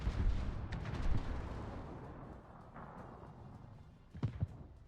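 Heavy warship gunfire in a World of Warships naval battle, deep rumbling booms that roll and fade, followed by a sharper pair of shots near the end.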